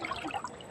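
Water trickles and splashes briefly as a can is filled, a short, close liquid pour heard alone.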